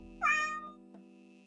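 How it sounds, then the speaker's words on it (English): Pet cats meow indoors, one drawn-out, fairly loud meow followed by a few softer, shorter chirps in an otherwise quiet room. "Kitties. Seriously?"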